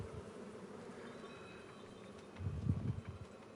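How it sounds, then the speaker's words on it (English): Bees buzz around a beehive in the Farming Simulator 25 video game as a faint, steady insect drone, with a louder low rustling swell toward the end. "Just so that people know they're not going crazy when they think they hear buzzing"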